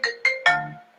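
A phone ringtone chimes three times in quick succession, loud and close, each tone bright and ringing out, the third note sustaining longer before fading.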